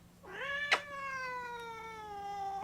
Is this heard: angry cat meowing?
yes